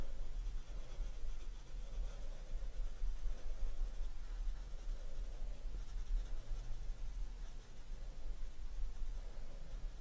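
Pencil shading in circular motions on smooth 200 GSM paper with a slight tooth, a continuous soft scratchy rubbing with gentle rhythmic swells as the strokes loop round, close and steady, no talking.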